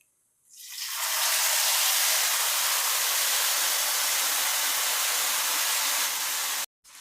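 Tamarind juice hits a hot pan with fried red chillies and erupts into a loud, steady, broadband sizzle that holds evenly for several seconds before cutting off abruptly.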